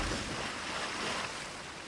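A rushing waterfall in the fantasy video game Kingdoms of Amalur, a steady broadband roar of falling water with a faint low wind-like rumble, continuous and unchanging throughout.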